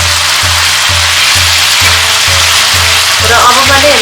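Mutton taas frying in a pan, a loud continuous sizzle with a faint rhythmic low pulsing beneath it.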